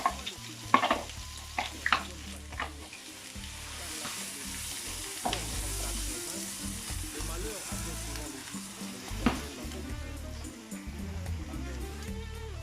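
Fish seasonings and garlic fry in hot oil for a Christmas sea bream dish, a steady broadband sizzle with a few clinks and stirring scrapes, moderately close, with faint low background noise and no clear talk.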